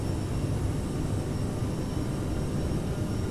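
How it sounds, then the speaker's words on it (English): CRJ-900 jet engines roar at takeoff power in Microsoft Flight Simulator, a steady, fairly quiet broadband rumble that holds constant throughout with no voices. "Takeoff power is set."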